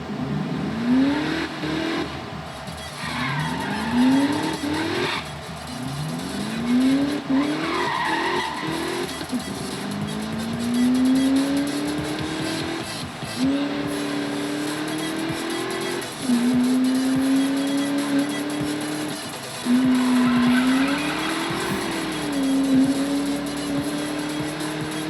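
A slow car in the video game Need for Speed revs and shifts repeatedly, engine pitch climbing then dropping in steady cycles, with bursts of tire squeal over a continuous loud roar.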